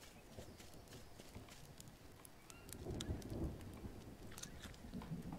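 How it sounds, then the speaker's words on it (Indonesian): Rain and thunder begin in the jungle survival game Green Hell, a steady patter with low rumbling that swells from about three seconds on, quiet and without talk. "Udah mulai mau hujan."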